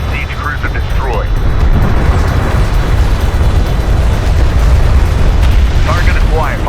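Loud, sustained rumbling blast from a ship destroyed in the video game Homeworld: Deserts of Kharak, with dense low-end roar filling the whole stretch and brief radio-style game voice chatter near the start and end.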